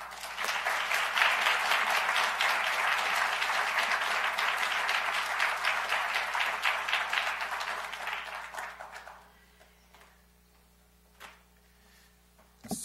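A lecture audience applauds in sustained, dense clapping to welcome the speaker for a public talk at Princeton, then the applause fades out into near silence with a few scattered claps.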